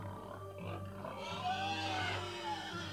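A frantic pig squeals and oinks close by, grunting continuously in a dramatized historical scene, with a low steady hum beneath the calls.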